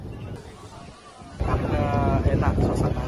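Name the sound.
sea breeze wind at the coast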